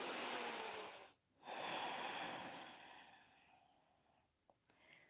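Slow nasal breathing during a yoga practice: a soft, airy hiss that runs steadily, breaks off briefly after about a second, then resumes and gradually fades, with a faint sniff near the end.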